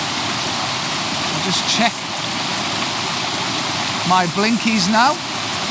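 A waterfall gives a steady, loud broadband rush throughout, while someone speaks briefly over it near the start and again toward the end.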